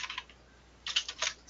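Keys clatter on a computer keyboard as a new name is typed, a quick burst of close taps, a pause, then a few more scattered clicks, quiet and without speech.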